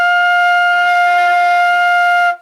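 A single sustained flute note F, held steadily at even loudness for about two seconds before stopping cleanly, with no speech.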